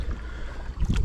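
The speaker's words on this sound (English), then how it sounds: "Got a paddle on the left, paddle on the right" A canoe paddle dipping into a flat river, a low watery swish swelling into a louder splashing stroke near the end, with wind rumbling against the microphone.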